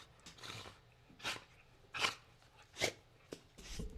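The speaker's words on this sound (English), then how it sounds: "Does everybody see this dog?" A pet dog named Traxa making a series of soft breathy huffs and snuffling bursts, about five of them spaced roughly a second apart, close and quiet with no talking.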